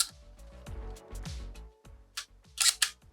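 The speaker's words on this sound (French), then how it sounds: "Alors bien sûr, le déclencheur, il faut le charger" The shutter of an Olympus Six folding film camera is cocked, giving a series of close, crisp mechanical clicks and ratcheting snaps in an irregular rhythm, ending with a couple of sharper bright clacks.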